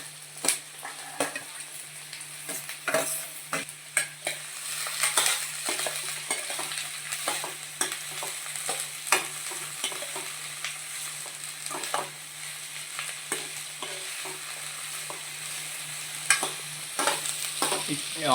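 Onions and capsicum sizzle in a pan for a capsicum tomato masala curry, with a continuous loud fry broken by frequent scraping stirs and clinks of a utensil against the pan.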